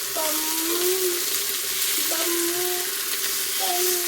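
Farai snacks fry in hot oil with a continuous sizzle and bubbling, while a quiet electronic-sounding tone repeats in the background.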